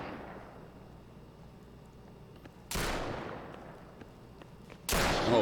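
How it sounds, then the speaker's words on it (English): Two heavy shotgun blasts boom in a play-to-earn shooter video game, loud and close, spaced about two seconds apart over low background game noise. "So I'm just, you know, mashing him up with the shotgun."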